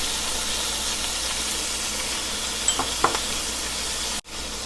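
Chicken liver frying with ginger garlic paste in a pan gives a steady broadband sizzle throughout, with a couple of brief stirring clinks near the end and a short dropout just before it finishes; no talk.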